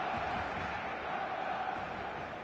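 Stadium crowd roaring and cheering on match day in the FC 27 football video game, a dense, steady wash of voices at full volume throughout.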